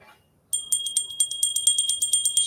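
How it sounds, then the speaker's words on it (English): A small bell is rattled over a candle flame: after a moment of near silence, bright high ringing starts and repeats in quick, steady shakes, close and clear, with no voices. "shake up the chi by rattling a bell over the flame."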